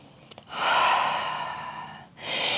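A deep exhale through the mouth during yoga, a long breathy rush lasting over a second, close to the mic, followed by the start of another breath.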